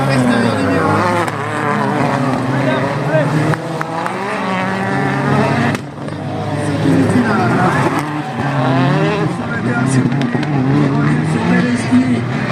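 A Hyundai rallycross car slides through a dusty corner at the French championship in Dreux, engines roaring and whining continuously, with a commentator talking excitedly over the racing throughout.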